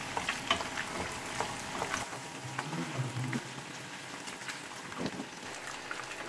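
Rohu fish fries in spicy masala in a pan, a steady close sizzle and crackle running throughout with occasional clinks and scrapes of handling, no talk.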